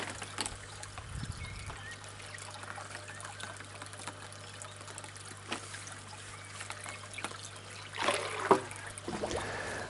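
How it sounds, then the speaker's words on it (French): Water trickling from one aquaponics fish tank into another, a soft, steady running dribble close by with a few brief louder splashes near the end. "comment l'eau passe d'un bassin à l'autre"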